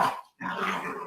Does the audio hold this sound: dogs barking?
yes